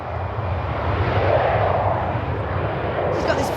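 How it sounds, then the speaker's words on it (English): A passenger plane taking off, its jet engines giving a loud, steady roar with a broad rushing hiss, constant throughout, with a brief high clatter near the end. "As the plane takes off, there's no turning back."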